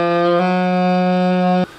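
A sustained D sharp (E flat) held on a woodwind instrument, a steady, clear tone with a slight shift in color partway through, ending abruptly after under two seconds, played alone.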